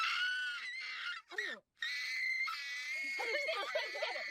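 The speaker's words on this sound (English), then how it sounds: "Here's her screaming the iconic Banshee screech from episode 4 of Bocchi the Rock Live." A voice actress lets out a shrill, strained banshee-like screech for an anime character, harsh and raspy, broken by a brief gasp and rising again, ending in quavering, sobbing wails, close and loud.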